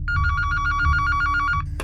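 Office telephone bell ringing close and loud, a rapid continuous trill lasting over a second before cutting off with a click.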